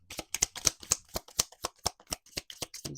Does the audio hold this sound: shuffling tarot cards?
yes